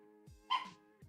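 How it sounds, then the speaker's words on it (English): A dog gives a single sharp bark indoors, fairly close, standing out against a quiet background hum. "My dog is losing it right now."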